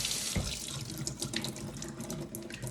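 A kitchen tap runs into a sink while a can is rinsed under it, a close, steady splashing stream with shifting gurgles as the can fills and empties.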